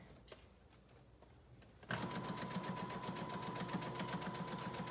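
A sewing machine top stitching a zipper onto a hoodie starts up after a quiet moment, then runs steadily with a fast, even mechanical rhythm close by.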